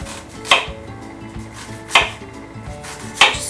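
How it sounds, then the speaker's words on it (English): A knife slices through beets into chunks on a cutting board, three sharp crisp chops spaced roughly 1.3 seconds apart, close and distinct over a quiet kitchen background. "So I'm going to cut it in half this way, and then we're going to slice into these pretty little chunks."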